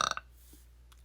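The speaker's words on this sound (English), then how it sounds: "Confirmation burp." A single short burp at close range, a loud burst of a few rough pulses followed by near silence.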